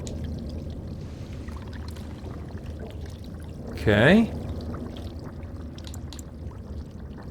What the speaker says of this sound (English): Fill the earthen jug with water.